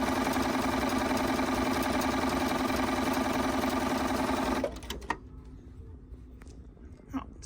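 A Bernina 630 sewing machine runs a zigzag stitch with a steady, loud mechanical whir and rapid needle rhythm for several seconds, then stops abruptly, leaving faint clicks and handling noises.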